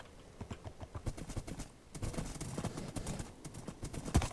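Hoofbeats of a horse in a video game, a brisk continuous clip-clop pattern of soft, repeated knocks at close range, steady throughout with one sharper thump toward the end and no speech.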